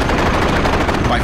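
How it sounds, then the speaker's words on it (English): Anti-aircraft guns on warships open up on diving Japanese planes in a dense, loud, continuous burst of rapid automatic fire with no pause. "we're firing across our flight deck level at the Japs as they come down"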